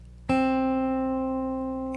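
A single guitar note rings out, fretted with the first finger on the first fret of the second string, struck sharply after a brief pause and then sustaining clearly as it slowly fades.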